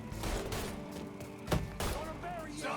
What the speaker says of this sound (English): Taking a shot.